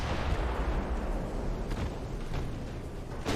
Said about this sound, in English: This battleship grade weaponry is just tearing the little cruiser apart.